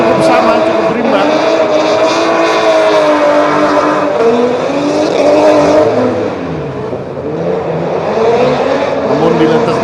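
Drift cars race on a half-wet, half-dry track at a Drift Kings Indonesia round, their engines holding a loud, steady howl with rising and falling revs throughout, while a commentator talks over the noise.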